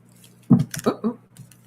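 A deck of oracle cards is shuffled by hand, giving a quick burst of papery riffling and slapping, a few clustered flicks up close followed by a softer tap.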